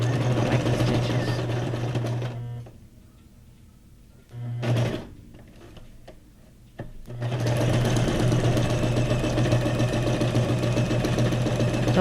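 A sewing machine runs fast and loud stitching decorative stitches, stops for a few seconds with a brief burst in between, then resumes its steady whirring hum and rattle.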